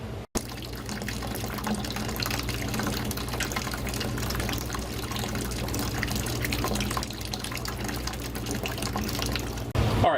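Water runs steadily through an aquarium sump, a continuous close rushing and trickling of filling and draining that holds at an even level throughout, with no voices.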